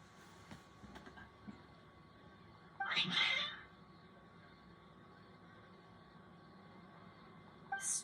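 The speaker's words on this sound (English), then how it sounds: "Your cats seem pretty worked up." Cats meow in the Genshin Impact video game, one distinct meow standing out over a quiet background, with another brief cat cry near the end.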